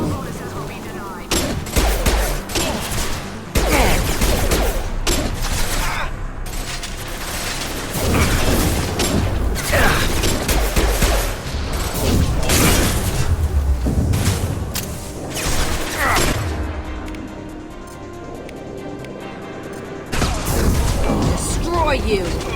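Gunfire rattles through a Mass Effect 2 fight with a Krogan: repeated loud bursts, booms and mechanical clatter come in irregular clusters, with voices talking over them.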